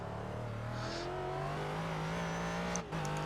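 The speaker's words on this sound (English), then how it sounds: "That's terrible exit through there. You can hear the wheels spinning up as I try and get the power down." Race car in the iRacing sim exiting a corner at steady high engine pitch, with wheelspin as the power goes down, a brief dip and a faint squeal near the end; continuous and close.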